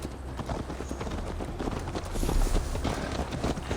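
Horse hooves beat a steady, quick clip-clop while riding in Assassin's Creed Valhalla, close and continuous, with wind and some background rumble.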